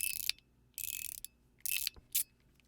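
Rapid ratcheting clicks from a MateEDC fidget shell fitted with inserts, heard close up in several short uneven bursts with brief gaps, no voices.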